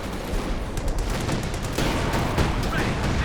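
An artillery barrage in the World War II strategy game Company of Heroes 2, with dense rumbling explosions and gunfire layered into a steady, loud battle din.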